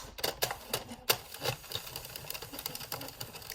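Addi Express plastic knitting machine carriage run across a row, a busy mechanical clatter of rapid clicks and rattles with sharp ticks, close and moderately loud, steady without pause.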